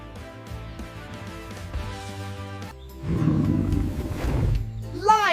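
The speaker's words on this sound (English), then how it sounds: "Lion, the king of the jungle." A lion lets out a deep, rumbling roar that swells to full loudness partway through, heard over light background music.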